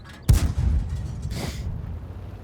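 Tank cannon firing in World of Tanks, a single sharp loud boom with a rumbling tail and a brief rushing whoosh after, no talk over it.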